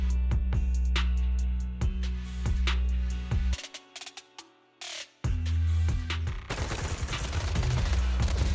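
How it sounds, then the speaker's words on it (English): Suppressive marching gunfire in the video game Zenless Zone Zero comes as rapid, repeated shots and bursts, with a brief lull before it resumes as a dense, continuous volley. "Gunfire? This pattern. Suppressive marching fire."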